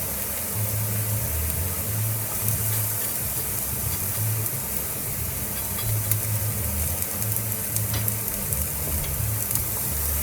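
Garlic sizzles in a hot pan for a quick and easy curry, a steady close frying hiss with a low intermittent hum underneath.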